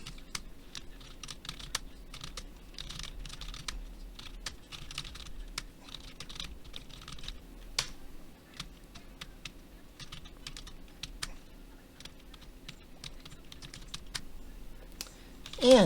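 Someone types on a computer keyboard to fill in form fields, irregular bursts of close, quiet key clicks with short pauses between runs, no talking.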